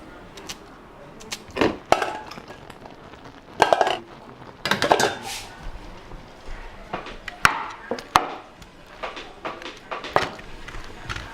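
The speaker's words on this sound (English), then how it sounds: "now she is just mashing the yam" Cooked yam is mashed by hand in Ghana, giving irregular bursts of close, woody thuds and knocks with short pauses between the strokes.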